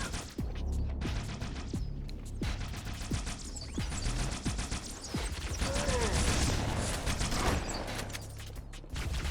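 Shotgun blasts from the video game Halo 2, several sharp, heavy shots at uneven intervals amid dense in-game combat noise, clanks and effects, loud and close.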